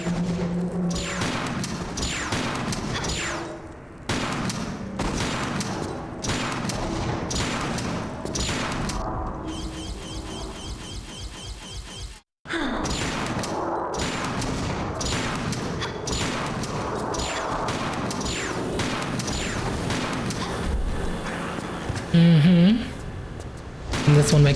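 Repeated booming shotgun blasts ring out in Tomb Raider The Last Revelation, fired in quick irregular bursts with ricochet-like crashes, with a short break midway.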